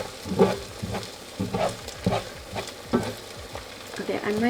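An egg fries in a pan with a soft continuous sizzle and repeated scraping and stirring sounds from a utensil, close and moderately loud.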